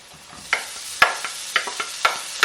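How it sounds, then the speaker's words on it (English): Potatoes tumbling into a hot pan of caramelized onion over medium-high heat, with a steady sizzle broken by about half a dozen sharp stirring scrapes and clinks, fairly close and without voices. "now I'm gonna add these potatoes"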